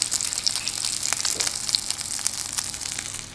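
Hands being washed under a running kitchen tap while a chicken roast dinner cooks, a steady bright gush of water with splashes, close and alone.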